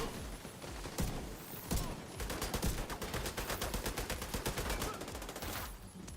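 Rapid gunfire in The Division 2, with bursts of automatic shots packed close together and repeating over several seconds, loud and dense with brief pauses between volleys.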